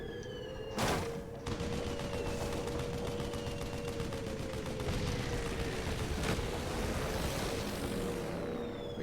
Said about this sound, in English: It's the anti-aircraft gun.